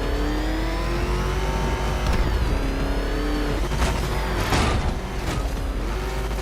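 Batmobile engine from Batman Arkham Knight revving and racing during a Riddler side mission: a loud, sustained engine drone with shifting pitch, rising and dropping as it accelerates, with a few sharp bursts near the end.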